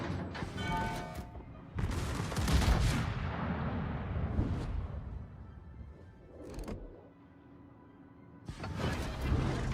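Naval gunfire in the World of Warships game during a Dunkirk battle: loud booming salvos rumble in long overlapping bursts, fading between volleys, with fresh heavy blasts near the start, middle and end.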